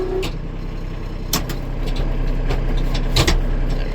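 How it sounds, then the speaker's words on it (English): A Kubota tractor drives into an enclosed trailer, its engine giving a loud, steady close rumble throughout, broken by a few sharp metallic clanks and rattles. "you ever seen a Kubota tractor go in an enclosed trailer?"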